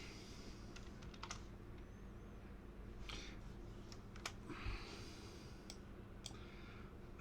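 Computer keyboard typing during a tabletop roleplaying game session: quick, uneven runs of light clicks over about seven seconds, close and moderately quiet, with a low steady hum beneath and no talking.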